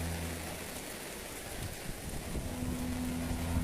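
Steady rain patters and hisses across the woods on a trail camera, a soft, even wash of drops with faint wind and low rumble underneath, no voices.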